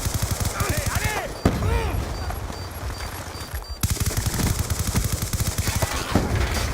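Bursts of automatic gunfire from the video game Call of Duty Black Ops 2 crackle in quick repeated strings, loud and close, while players talk over the shooting.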